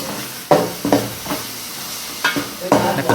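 Dried red chillies and curry leaves sizzle in hot oil for a fish kuzhambu. A utensil scrapes and stirs the pan in repeated bursts over a continuous close frying hiss.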